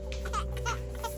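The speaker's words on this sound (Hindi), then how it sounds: "ये बच्चे के रोने की आवाज है।" A baby's fretful cries come in quick, broken bursts over a constant low background drone, close and moderately loud.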